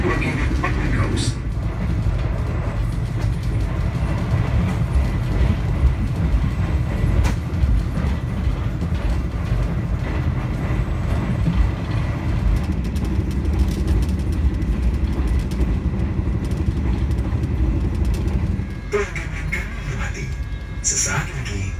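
Argo Bromo Anggrek passenger train running along the rails in Java, a steady loud rumble and rattle heard from inside the carriage with faint clicks of the track and some voices, easing slightly near the end.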